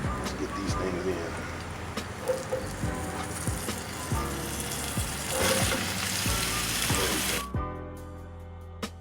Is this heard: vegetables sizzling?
yes